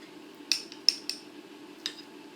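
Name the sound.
spoon filling ramekins with fish mousseline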